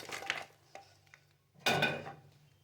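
Sticky caramel-coated makhana mixture is spooned into a ghee-greased steel tray, giving soft metallic scrapes and light clinks, then one louder close-up clatter, with no talking.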